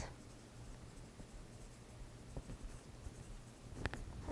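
Pencil drawing a bounding box on paper, faint scratchy strokes close up with a few light taps and handling knocks near the end, no talking.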